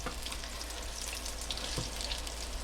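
Mac tuna pieces frying in a pan, cooked the same way as beef, give a steady, close sizzle and crackle that runs unbroken, with light spits and pops over a dense hiss and no talking.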